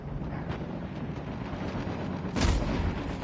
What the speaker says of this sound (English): I got hit by a sniper from way far away